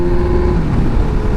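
Honda Hornet 919 motorcycle engine pulling hard under acceleration, a loud, steady close-up roar with a rising harmonic tone and dense low rumble filling the short burst.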